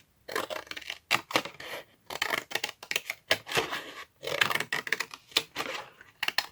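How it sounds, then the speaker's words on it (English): Large scissors cut through paper for a handmade 3D tunnel book journal with crisp, close snips. The cuts come in irregular quick bursts separated by short pauses, with no talking. "I'm just going to use my scissors. And I'm going to use the bigger ones now."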